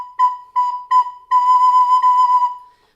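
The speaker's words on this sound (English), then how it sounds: "So the B is played like this." A recorder sounds the note B in a steady pitch, with three short separate notes followed by one longer held tone, close and clear with no talking.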